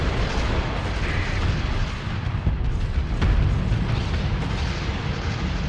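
Massive rumbling explosions of a space station blowing apart in Starsector, a dense, continuous roaring blast with scattered booms that stays loud throughout.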